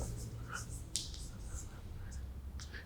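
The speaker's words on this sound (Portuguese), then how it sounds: "Eu vou até escrever aqui, ó." Writing on a board during a lesson on lactic fermentation, heard as faint, scratchy, short strokes in irregular bursts against a quiet room.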